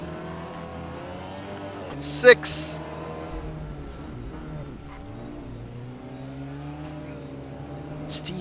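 TCR SEAT Leon DSG race cars at Autodromo di Modena in a racing video game, a steady engine drone running under commentary, with brief loud squeals or bursts near the two-second mark and again at the end.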